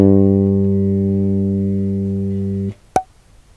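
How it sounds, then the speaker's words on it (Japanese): A single sustained bass guitar note, G on the G string, ringing steadily and slowly decaying for under three seconds before it is cut off, followed by a sharp click. "G の音になります。"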